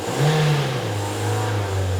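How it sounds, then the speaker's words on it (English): A Toyota engine with a slipping clutch revs up and then holds a steady drone, its pitch dipping and settling lower, loud and close with no talk. "That clutch is now slipping."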